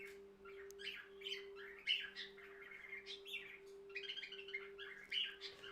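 Pet bird singing by a window, a steady run of bright chirps, tweets and short warbling phrases at moderate distance, alone over a constant low electrical hum.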